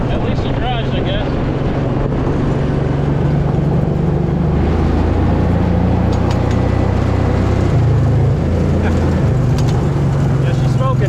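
A smoky Kawasaki Mule utility vehicle with head gasket trouble drives along, its engine droning loud and steady throughout, mixed with wind rumble on the microphone.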